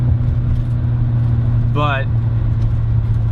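Engine of a 1972 BMW 3.0 CS E9 coupe, a loud, steady low drone that holds constant throughout, with a single brief spoken word partway through.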